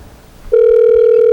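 A telephone tone sounds just before a voicemail greeting. After half a second of quiet room noise, one steady electronic tone starts abruptly and holds loud and unbroken to the end.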